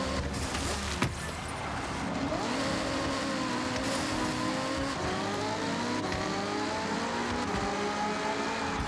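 Engine note of a car driven in the racing game Forza Horizon 6, a steady revving drone with rising and falling pitch sweeps as it accelerates, moderately loud throughout with no talk.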